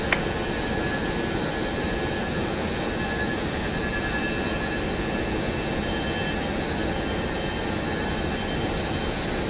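Boeing 707 jet engines at takeoff thrust, a loud, steady broadband roar that holds without letup, with no voices over it.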